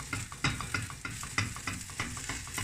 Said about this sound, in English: so you're looking a wee bit of scrambling the egg at this stage